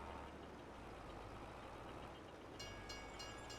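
A train in Farming Simulator 22 rumbles past, a steady low roar and rolling noise, with high metallic squeals and clacks joining toward the end.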